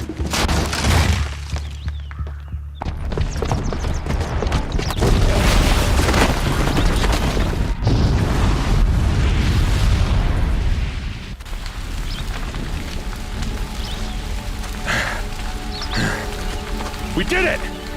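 A booby-trapped bomb detonating in Horizon Zero Dawn, a heavy booming blast with crumbling debris and a rushing roar that fades into lingering rumble, with character voices talking over it.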